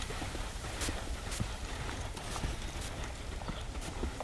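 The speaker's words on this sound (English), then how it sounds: "Get her to walk, trot, and lope with the saddle on." A young horse wearing its first saddle moves around a round pen at walk, trot and lope, with steady clip-clop hoofbeats on soft ground recurring rhythmically at moderate distance over a constant outdoor background.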